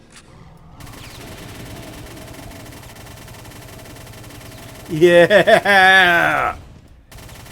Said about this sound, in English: It's one of the more fun chain guns in the series